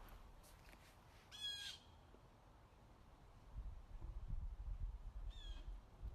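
A crow caws outdoors, two short harsh bursts with a pause between them, the second fainter, over low rumbling background noise.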